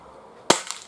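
An Umarex break-barrel Mini Uzi air pistol fires and the pellet strikes a steel sheet about 35 yards away, a sharp single crack followed by a couple of faint metallic ticks in a quiet outdoor setting.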